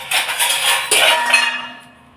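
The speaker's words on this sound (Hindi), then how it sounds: "इससे इसमें मिलाऊँगी।" Gram flour (besan) is stirred into a curry in a pan with a metal spoon, making close, continuous scraping with light clinks against the pan. The stirring fades out toward the end.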